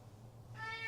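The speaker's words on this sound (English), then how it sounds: "Sorry if you heard my cat." A house cat named Oreo gives a single faint, short meow in the background of a quiet indoor room.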